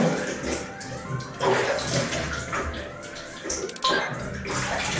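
A bathroom tap runs steadily as children wash their faces at a sink in a family home, a continuous close splashing wash with brief louder surges as hands scoop water.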